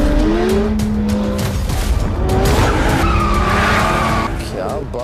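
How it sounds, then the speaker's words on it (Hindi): A car is driven very fast on a road with tyres skidding and squealing loudly and close, the engine whining and shifting pitch throughout. "80 रोड पे इतनी तेज गाड़ी चला रहे हैं"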